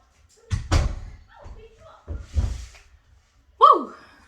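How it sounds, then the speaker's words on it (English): An indoor door shuts with a firm slam, a sharp thud standing out after stretches of talking from people in a reality-show household setting. "can you close the door?"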